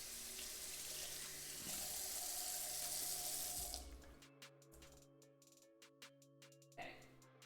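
A tap runs strongly into a sink for several seconds while someone washes, then shuts off, leaving a few light drips, small knocks and handling sounds in a quiet room.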